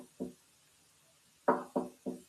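Knocking on a front door in a video game: two knocks, a pause, then three more heavy thuds in quick succession, close and clear against a quiet background.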